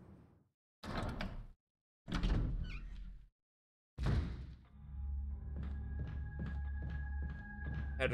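A heavy metal door in the Resident Evil Remake game opens with a few separate thunks and clanks, followed by a sustained mechanical rumble with regular tonal clicks, loud and close.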